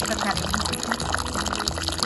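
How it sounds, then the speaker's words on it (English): Water pours over dry fish to soak and desalt it, a close gurgling, splashing stream that runs under someone talking. "What we do here is to get the water in."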